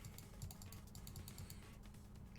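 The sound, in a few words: typing on an old keyboard in the video game Zero Escape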